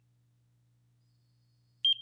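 After near silence, a NIRA at-home anti-aging skincare device at level 1, held down on the skin of a hand, gives one quick high electronic beep at the very end, close and clean.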